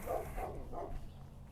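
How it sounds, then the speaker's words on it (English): Several dogs barking from nearby, a few quick muffled barks in succession, moderately loud, followed by a brief quieter stretch. "Dogs."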